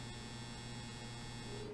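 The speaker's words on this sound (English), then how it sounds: "my dryer just went off" A clothes dryer's end-of-cycle buzzer gives a steady, droning electric buzz, continuous and unbroken for under two seconds with no voices over it.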